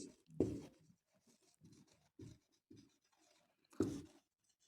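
Chalk writes a sentence on a classroom board in a few short, separate scratching strokes, up close against a quiet room.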